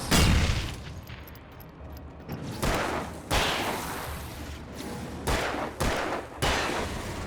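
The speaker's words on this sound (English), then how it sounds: "Let me shoot the barrel." Several gunshots fired at a barrel in Alan Wake, sharp loud cracks at irregular intervals with a heavy blast at the start and ringing decay between shots.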